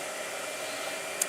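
A blow dryer runs steadily through a watercolor painting session, giving a continuous, even whoosh of moderate loudness with no voices and one brief tick near the end.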